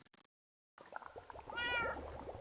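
A Minecraft cat lets out a single drawn-out meow midway through, set against a busy game soundscape of soft clicks and footsteps after a brief silent gap.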